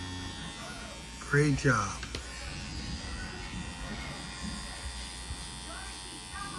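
An electric tattoo machine hums in a steady, thin buzz while it works on human skin for a first tattoo. A voice speaks briefly over it near the start.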